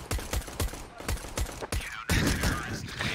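Rapid gunfire from Counter-Strike rings out in a string of sharp, evenly spaced shots, followed by a denser burst, all fairly loud.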